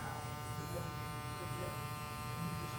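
A Wahl Magic Clip or Stylecraft Instinct hair clipper hums steadily and close by, a continuous electric buzz with no breaks.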